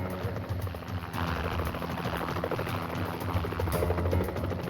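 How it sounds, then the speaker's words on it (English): A police helicopter hovers above a barn in Wright City during a standoff with a gunman, a steady loud rotor thrum and engine drone that holds continuously, with faint talk beneath. "As a chopper surveilled the barn from above"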